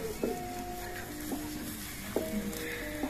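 Satay meat grills over heat with a steady, close sizzle and crackle, broken by a few soft taps and scrapes of skewers or utensils.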